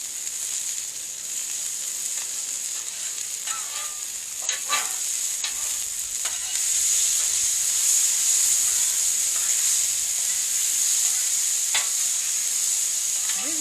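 Shrimp fried rice and vegetables sizzling steadily on a hot barbecue griddle, a constant bright hiss with occasional scrapes and taps of a spatula throughout.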